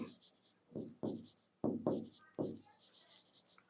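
Chalk or marker strokes scrape across a board in short bursts of rubbing and tapping. Between the strokes a nearby voice speaks, explaining the formula for the area of a rectangle.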